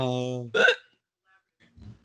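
A single sharp hiccup cuts off the end of a voice, then a short silence and a faint low sound follow.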